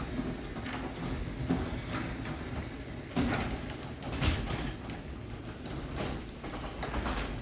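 A Genie Excelerator garage door opener runs a small sectional door, a steady mechanical whir with rhythmic clicking and rattling taps as the panels travel, close and moderately loud throughout.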